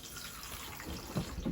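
A cassette toilet pump, switched on with a button, flushes water around the bowl in a faint, steady swirl of running water, with a couple of soft low knocks near the end.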